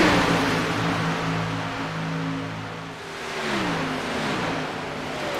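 Race cars in a sim racing game at Daytona drone past in a dense pack, a loud, sustained engine roar with steady tones that rise and bend as the field moves.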